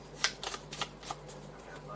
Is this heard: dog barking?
no